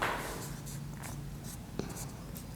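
Chalk or marker scratches steadily across a board during a Class 8 maths lesson on squares and square roots. Short strokes repeat at close range over a steady room hiss.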